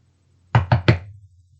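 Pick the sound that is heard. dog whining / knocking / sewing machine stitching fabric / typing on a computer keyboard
knocking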